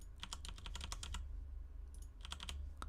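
A computer keyboard clatters with quick bursts of keystrokes, a dense run of taps, a short pause, then another flurry, close and clear over a low steady hum.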